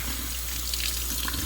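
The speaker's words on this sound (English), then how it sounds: "when I rinse it, I just hold it in my hand like this with the water running through it" Cold tap water runs steadily from a faucet over jewelry held in a hand for rinsing, a continuous close splashing hiss without pause.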